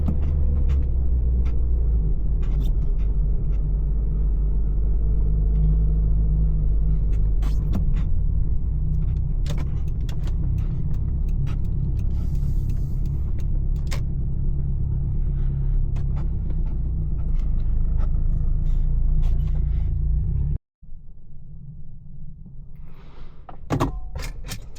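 A single car passes at night through an otherwise quiet parked setting, its engine and tire rumble swelling loud and steady for about twenty seconds before cutting off abruptly, followed by faint ambient noise and a few clicks.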